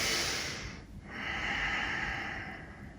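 Slow, airy breathing during a yoga tree pose: a long exhale, a brief pause, then another smooth breath, close and soft with no talking.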